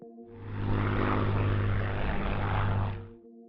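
Propeller engines of a wartime bomber aircraft on a raid over Hamburg give a loud, steady droning roar that swells in, holds, then fades away.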